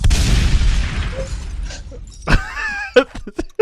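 An explosion sound effect closing a song: a loud booming blast with a shattering tail that fades over a couple of seconds, followed by scattered sharp pops and debris-like cracks.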